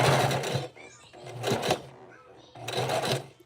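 A sewing machine stitches forward on a wig cap in three loud, rapid mechanical bursts separated by short pauses, close up, with a voice speaking over it.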